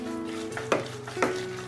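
A spoon works through minced pork filling seasoned with salt, pepper, starch and a little oil, giving two soft, wet stirring scrapes over a low background hiss.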